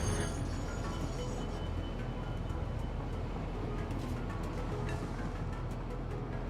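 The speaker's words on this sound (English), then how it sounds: "There's a lot of trains on here." Steady rumble of a train rolling along rails in the factory-building game Satisfactory, a continuous low mechanical drone with faint clatter, moderately distant and without talk.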